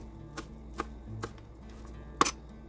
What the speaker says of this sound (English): So I'm just gonna cut it up kind of like minced, not too much